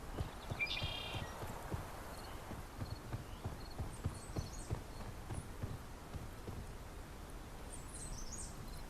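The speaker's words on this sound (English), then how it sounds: "Every once in a while it sounds like the footsteps aren't mine" In the VR game Silent North, a steady run of footsteps thuds along at an even pace and stays close and clear, while faint bird-like chirps sound in the background.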